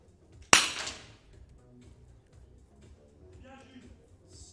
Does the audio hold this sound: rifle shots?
yes